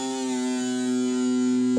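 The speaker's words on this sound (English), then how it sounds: "Then he goes to 3rd fret on the A string and does the bend and release." An electric guitar note is bent upward and released on the third fret of the A string, a single sustained tone ringing alone with a slight rise toward the end.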